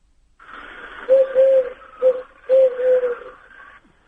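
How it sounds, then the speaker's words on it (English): Recorded collared dove call, a series of soft hooting coos in a broken rhythm of three phrases, close and clear against quiet. "That was a collared dove."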